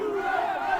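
A soccer crowd at a men's college match roars and cheers in a brief, steady burst, roused by a fan drumming with drumsticks.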